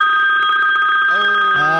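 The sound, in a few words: telephone ringing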